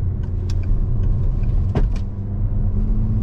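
A car rounding a roundabout at 50 km/h, its steady low rumble of engine and road noise carrying throughout, with a few brief clicks and thumps passing near.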